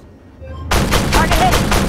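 Armored Warfare tank fire bursts in abruptly after near silence, a loud close volley of rapid repeated impacts continuing to the end.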